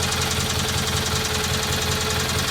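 A Kohler Magnum M18 engine on a Cub Cadet 1882 garden tractor idles steadily after a full service, a low, even mechanical chug with a faint knocking rhythm, close by and constant.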